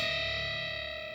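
A sustained, distorted electric guitar note on the B string rings out with heavy effects, steady and loud, slowly fading slightly over a second.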